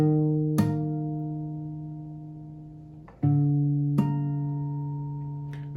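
Guitar harmonics chimed between the 10th and 11th frets ring out clear and bell-like, two struck notes sustaining and slowly fading, with a fainter touch near the end and no voices.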